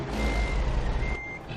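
Reversing beeps from a Kenworth truck in American Truck Simulator, stuck in deep snow, sound steadily over a loud low engine rumble, with no talk.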